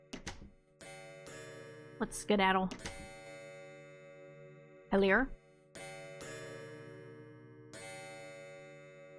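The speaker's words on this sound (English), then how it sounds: "The clock that was stopped earlier is now chiming non-stop" A clock in a video game chimes over and over, sustained tones ringing loud and steady across the whole stretch, with a person speaking briefly over it.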